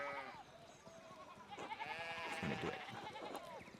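Sheep bleat repeatedly in the video game Pentiment, several wavering cries overlapping at moderate distance, with someone talking over them.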